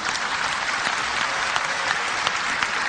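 An audience claps steadily and densely through a religious talk, with sustained applause from many hands filling the space without pause.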